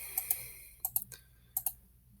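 A computer mouse clicks as states are picked on an election map. The sharp, quiet clicks come in quick pairs, about seven in all over two seconds, and nobody speaks.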